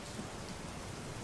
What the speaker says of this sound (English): the faint tap of rain against the massive windows, broke the quiet